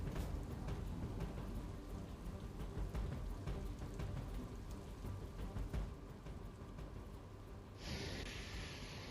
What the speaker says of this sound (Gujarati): બોપલ, ઘુમા, શેલા સહિતના વિસ્તારમાં વરસાદ પડી રહ્યો છે